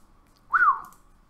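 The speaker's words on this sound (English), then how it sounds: "Oh, sorry for the whistle." A person gives a single short rising-and-falling whistle, clear and close, lasting about half a second against a quiet background.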